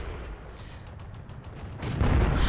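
A tank main gun fires in a World War II tank video game, the Hungarian Toldi III 43M light tank shooting from a hull-down spot; a loud, low boom hits near the end after a steady rumbling engine and battle background.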